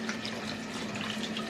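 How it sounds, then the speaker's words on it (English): Tap water running through a small sieve of lentils at a kitchen sink, a steady close splashing hiss with light patter, continuous for the brief moment with no talk. "so just pour it into like a little sieve, ignore the dirty sink, and then you just basically just wash it out."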